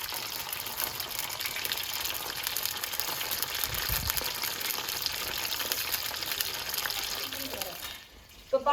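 Eggplant frying in a pan, a steady close sizzle with broadband hiss running nearly throughout, dropping away near the end with a few brief knocks.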